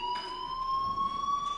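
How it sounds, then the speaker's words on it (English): A video game fire alarm sounds as a steady high electronic tone with harmonics, continuous and moderately loud throughout, with no talk. "Hey, do you hear that fire alarm?"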